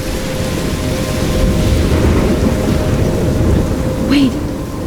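Thunderstorm with heavy rain in the video game Life is Strange, a loud continuous roar of rainfall and deep rumbling thunder, with a brief faint tonal sweep near the end.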